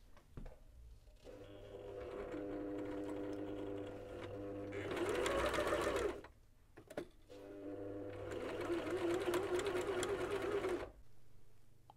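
A sewing machine stitches across a hem along a slit in two long bursts of steady rapid mechanical whirring, with a short pause and a few clicks between them, close and alone.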